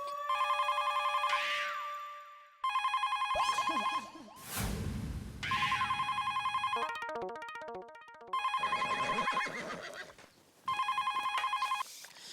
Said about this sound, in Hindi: बदले हुए सिम कार्ड से ही मैंने सुंदर को फोन ठोक दिया।